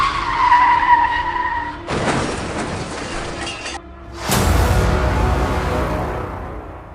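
Car skidding and crashing as a dramatic story sound effect: a high tire screech, a sustained grinding rush, then a sudden loud burst of crash noise that trails off, all without speech.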